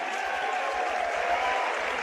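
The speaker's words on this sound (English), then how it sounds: "the students continuing to stand and cheer" A basketball gym crowd applauds and cheers steadily at halftime, a dense, continuous wash of clapping with no pauses.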